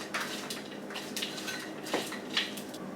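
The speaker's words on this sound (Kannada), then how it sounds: "ಮತ್ತೆ ಈ ಉಪ್ಪು ಹಾಕಿ ಮೊದಲು ಈ ತರ ಕೈನಲ್ಲಿ ಕಲ್ಸ್ಕೊಳ್ಳಿ" Soft, irregular scraping and clinking as rice is mixed by hand with sugar and salt in a metal vessel, quiet and close with a few sharper taps.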